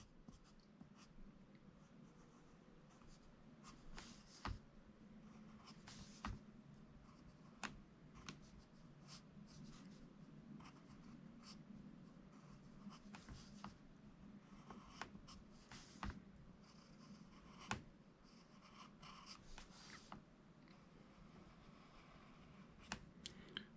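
A pencil drawing on ridged paper, a soft continuous scratching with intermittent sharper strokes and taps, quiet and close with no talking.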